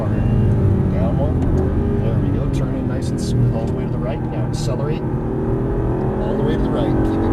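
An Aston Martin V8 Vantage on a race track, its V8 engine droning loudly and steadily under acceleration inside the cabin, with a rising engine note and occasional wind or tyre noise.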